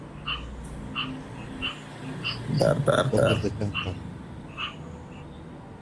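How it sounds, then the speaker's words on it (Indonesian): Frog croaking in short repeated calls, spaced at roughly regular intervals through the clip, fairly close, with people talking over the middle section. "Ini kodok siapa ini?"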